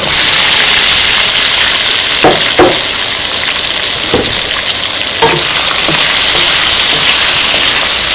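Loud, steady sizzling of crushed chili and onion frying in very hot oil for homemade sausage, with occasional scraping taps of a spoon stirring the pan.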